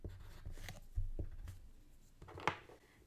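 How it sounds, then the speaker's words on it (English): Green crayon scrawling across paper while a child's drawing is lettered, a faint soft scratching in short strokes with small taps, fairly quiet and close, no voices. "I will use a green crayon to write the word green"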